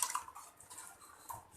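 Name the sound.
water poured into pressure cooker with lentils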